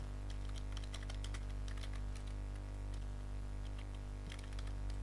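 Steady keyboard typing while names are entered into a Microsoft Excel sheet, a quick irregular patter of keystrokes over a low constant electrical hum, with no voices.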